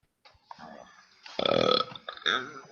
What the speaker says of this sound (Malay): Sendawa gitu.